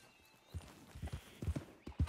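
Horse hooves clip-clopping at a steady riding pace in Red Dead Redemption 2, a series of soft, rhythmic thuds close by over quiet ambience.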